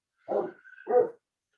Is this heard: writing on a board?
no